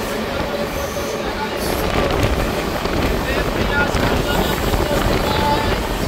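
A local train pulling into Naihati Junction, heard from on board: continuous loud rumble of wheels and carriage with rattling, faint squeals and wind noise throughout.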